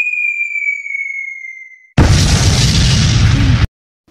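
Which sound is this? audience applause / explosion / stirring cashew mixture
explosion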